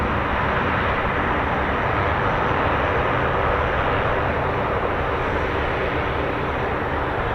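A military aircraft with four Rolls-Royce AE 2100 D3 turboprop engines, an MC-130J at a Royal Air Force base, gives off a loud, steady engine roar that holds without a break.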